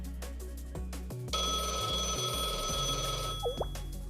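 A phone rings in the video game Blue Archive, a loud, steady electronic ringing tone that starts about a third of the way in over soft game music and keeps sounding to the end, with no talking.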